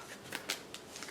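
A deck of board game cards being shuffled, a few quick papery riffles and flicks, close and brief with no talk.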